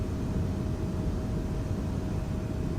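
Embraer E-190 jet climbing to cruise altitude after departing London City, in a flight simulator game: a steady, even cockpit roar and broadband rush with a faint constant tone, continuous and unbroken.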